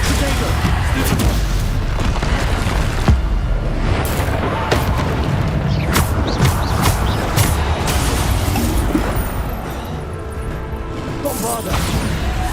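Spell blasts from Hogwarts Legacy gameplay boom and crash in rapid succession, loud repeated impacts and bursts filling the whole stretch, with spell names called out throughout.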